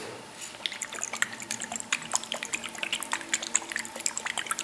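A bottle of very runny L'Oreal Magic Nude liquid powder foundation is shaken, giving quick wet sloshing clicks and drips in a steady jittery rhythm, close up and alone.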